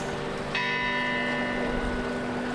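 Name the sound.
clock tower bell chiming in Switzerland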